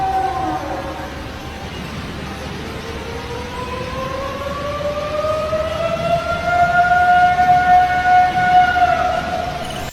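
A siren-like wail recorded on a trail cam, a long rising and falling tone that swells steadily louder over the whole span, with no voices.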